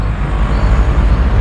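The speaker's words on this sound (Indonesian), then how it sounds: "Mohon maaf berisik ya, ini di pinggiran jalan banget, banyak mobil-mobil gede." Heavy traffic roars past close by at the edge of a busy road crowded with big vehicles, a loud, continuous low rumble with a slow, surging rise and fall.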